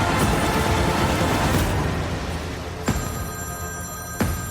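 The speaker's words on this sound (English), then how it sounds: "Pick up the phone, James." A telephone bell rings twice in sharp bursts, cutting through a loud, rumbling background noise.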